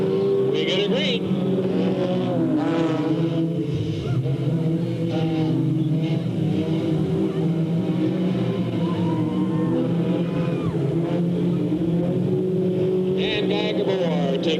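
Race cars roaring at close range on the Delta Speedway oval at the green flag, a loud, continuous engine drone that swells as the field accelerates, with an announcer talking over it throughout.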